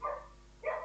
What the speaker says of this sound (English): These fucking dogs.